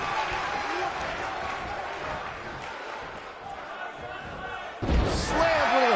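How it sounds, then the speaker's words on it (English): A heavy slam lands in the WWE 2K19 wrestling video game, a sharp thud late on, backed by a roaring arena crowd that swells afterward. "Slammed with authority."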